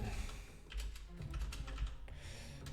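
Keys on a computer keyboard tapped out in an irregular run of soft clicks while a written reply is composed, close and fairly quiet, with no talking.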